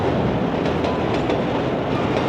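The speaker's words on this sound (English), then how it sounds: "Another classic shot of the train." A train from Rocky II rolls by in Philadelphia as a dense, continuous rumble, with faint rhythmic clicks of wheels over rail joints and no talking.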